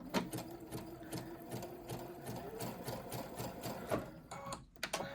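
A sewing machine stitches a test zigzag on a fabric scrap with a fast, even mechanical chatter of needle strokes, running steadily and close, then stopping abruptly near the end.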